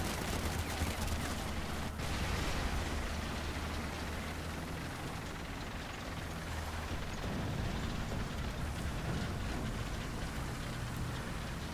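Incoming artillery in War Thunder pounds around a Soviet KV-1S tier-2 heavy tank: a continuous, dense roar of blasts and rumbling gunfire that stays loud and steady for the whole stretch, with no voices.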